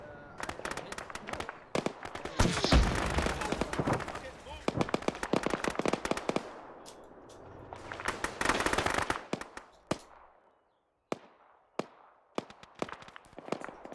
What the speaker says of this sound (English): Your tank's starting to shoot the UN.